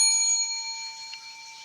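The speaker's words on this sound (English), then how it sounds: "Bell rings, then come back after you've had your discussion." A classroom bell rings, a bright sustained metallic tone that fades slowly over under two seconds with no voices.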